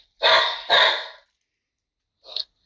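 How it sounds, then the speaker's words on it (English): A dog barks twice in quick succession, loud and close, then gives one shorter, fainter bark after a pause, in a quiet room with no talk. "Is that dog okay? Is your dog okay, bud?"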